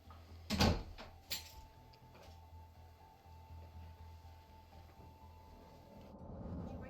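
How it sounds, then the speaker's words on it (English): A door is shut in a house on a cold day, a sharp close thud followed by a second smaller knock, then a low steady room hum. "You can close the door."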